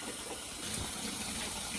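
Water rushes steadily into a Kuppet twin-tub washing machine and spin combination at home, a continuous broadband gush of filling liquid with no voices, holding at an even level throughout.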